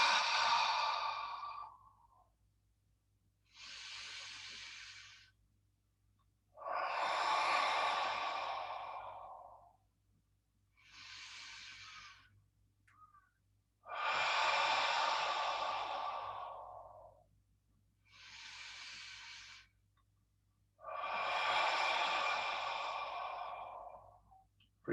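Slow, breathy whole-body exhalations during a qigong exercise, seven long airy breaths of varying length separated by quiet pauses, close and soft, with no talk.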